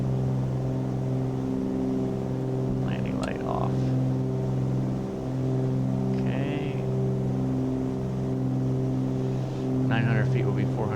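Twin engines of a Cessna 414 in Flight Sim World drone steadily at high power through the takeoff climb, a loud continuous harmonic roar with brief cockpit voices and radio chatter over it.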